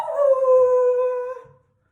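A person imitates a dog with a single drawn-out howl, clear tonal voice sliding slightly and fading after about one and a half seconds, alone and close.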